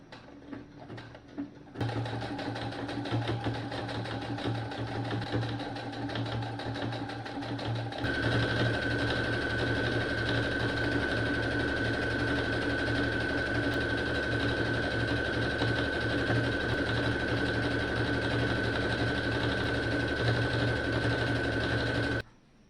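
Home sewing machine running lock stitches near the end of a hem, a close continuous mechanical hum and rapid needle chatter that starts after a brief pause and runs steadily, rising in speed before stopping abruptly.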